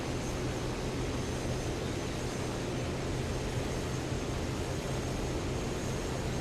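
Steady, loud propeller aircraft engine drone during a takeoff run in War Thunder, the plane loaded with twenty 250-pound bombs; a continuous broadband roar with a low hum, no talk over it.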